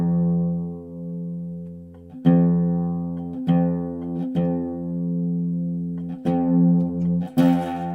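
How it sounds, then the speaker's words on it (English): Oud F string plucked and left ringing while being tuned, a steady sustained tone with sharp fresh plucks roughly every second or two, close and clear, no talking. "Then tune the other F string."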